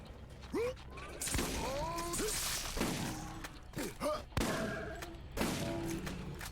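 Shotgun blasts in the Borderlands video game, several loud separate shots spaced a second or so apart, each with a sharp crack and mechanical rattle, mixed with game effects and creature cries.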